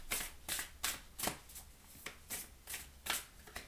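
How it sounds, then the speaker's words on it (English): Oracle cards shuffled by hand in a quiet room, a run of about nine quick riffling bursts in a steady rhythm, close and crisp with brief pauses between. "I'm just going to pull another oracle card here"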